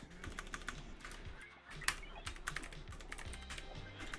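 Steady, quiet keystrokes on a computer keyboard, a dense run of light clicks with a few sharper taps, close by and heard alone.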